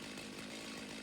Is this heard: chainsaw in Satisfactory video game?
yes